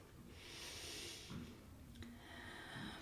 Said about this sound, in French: Profond inspire.